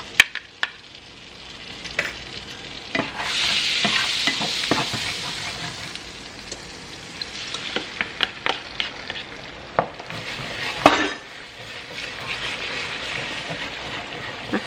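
Five scrambled eggs cook in a pan with a steady sizzle while a utensil scrapes and taps against it in irregular strokes, close up and fairly loud, with no talking.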